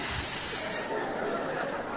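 A voice imitates air hissing out of a valve, a loud sustained breathy hiss that suddenly drops in brightness partway through and continues more softly.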